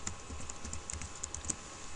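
Typing on a computer keyboard at a desk, a quick run of light clicking keystrokes at steady close range with no talk.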